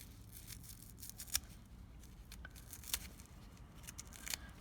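A few quiet scissor snips cutting off the end of a small tube, three brief crisp clicks spread out against a faint hiss, close and soft.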